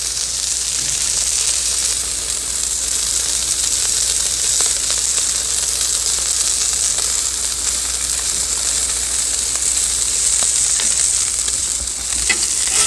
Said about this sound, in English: all the pieces of the steak get a nice sear